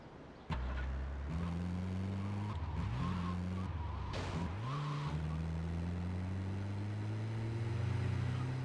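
A truck revs and skids in GTA: Vice City Stories, its engine droning steadily as the pitch rises and falls through shifts, with brief screeching slides of the tyres partway through.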